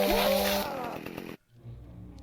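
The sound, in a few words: chainsaw in Dark Moon video game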